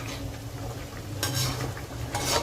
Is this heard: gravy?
yes